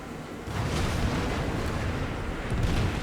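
Naval gun shells fire in World of Warships, a heavy rumbling boom that swells after a brief quiet start and holds as a dense, sustained roar with another surge near the end.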